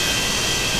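Jet engines running on an aircraft in the P3D flight simulator, a steady broadband roar with a high whine, continuous and fairly loud with no pauses.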